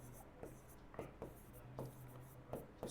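Short, regular scratches of writing on a board during a class lesson, about half a second apart, quiet and close under faint room tone.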